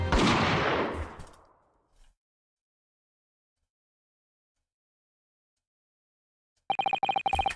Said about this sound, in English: Jikoku shot Asogi from the shadows.